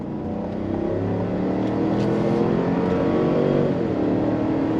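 A 2024 GMC Yukon Denali Ultimate, a big luxury SUV with rear-biased drive, pulls hard under throttle with a deep engine note that rises steadily in pitch and stays loud and close, with no talk over it.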